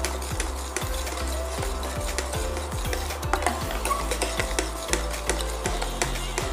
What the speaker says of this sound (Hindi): कढ़ाई छोड़ने तक आप हिलाएंगे इसको।